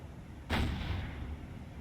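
A single heavy naval gun blast booms from a warship in a historic Sunda Strait battle in War on the Sea, a sudden thud with a lingering rumble over a steady low background.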